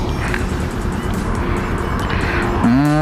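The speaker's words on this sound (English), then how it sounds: "this is my first ride with the Ninja 650" A Kawasaki Ninja 650 motorcycle rides on the road, a steady broadband engine and wind roar with a rising engine note near the end, close and fairly loud, with no talking.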